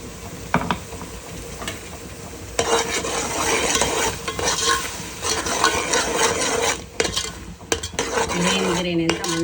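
A spoon scrapes and stirs ground masala paste with onion, ginger and garlic in a cooking pot for chicken pulao, with loud metallic clinks and a steady sizzle of frying underneath.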